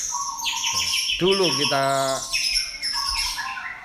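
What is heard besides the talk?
lovebird chirping and squawking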